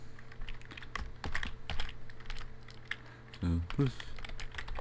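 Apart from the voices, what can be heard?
typing a phone number on a computer keyboard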